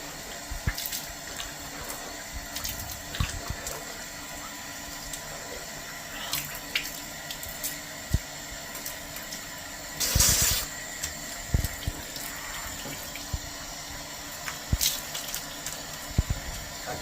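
A wash basin tap runs steadily while hands are washed. The hissing water stream is close and continuous, broken by splashes and clatters, with a louder surge of rushing water near the middle.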